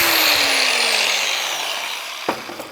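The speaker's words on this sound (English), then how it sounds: "I will hit this on the grinder right quick just to clean that up" A bench grinder cleans up a hydraulic cylinder fitting from a Massey Ferguson tractor, a loud continuous whine that slowly winds down as the grinder spins off, followed by a couple of soft knocks.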